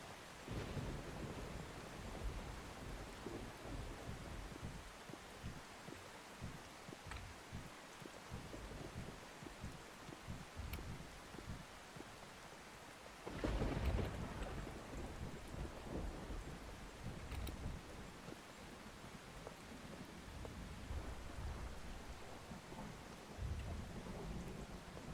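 Steady rain with rumbling thunder from a storm in the storm-chasing video game Outbrk, a sharp close thunderclap landing midway through a continuous downpour, no talking.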